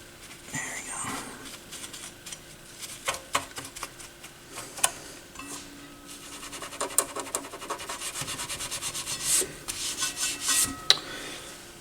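Gunk is rubbed off the side of the tone arm on a Pioneer PL-516 turntable, producing close, scratchy scrubbing strokes and small ticks that grow denser toward the end, with a voice occasionally talking underneath.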